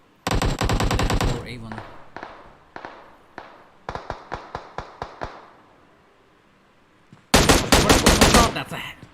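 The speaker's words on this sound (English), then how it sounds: "They're still shooting, trying to see if they can get any covering fire." Automatic gunfire in a BGMI esports tournament match: dense rattling bursts open and close the clip, with spaced single shots and short volleys between them. A brief voice is heard.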